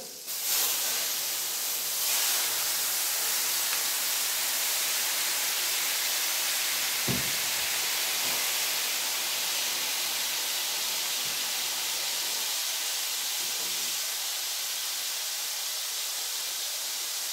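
Water poured onto a hot surface gives a broad, continuous hissing roar that starts abruptly and holds steady for a long stretch, with a few faint clinks and knocks underneath.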